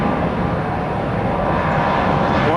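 Southwest airliner departing runway one left, a steady loud roar of jet engines with broad rushing noise, constant throughout without voices.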